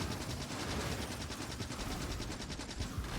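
A turret in Factorio fires in rapid automatic bursts, a dense rattle of gunfire with evenly spaced shots that keeps going without pause.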